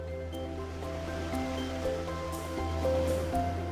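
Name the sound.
waves washing onto the coast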